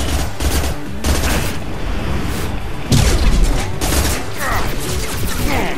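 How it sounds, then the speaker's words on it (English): Submachine gun bursts rattle in rapid fire during combat in Mass Effect 2, loud dense volleys of shots in rapid succession with brief gaps and punchy impacts, layered over game effects and background sounds. "This new submachine gun is pretty nice. Rapid fire."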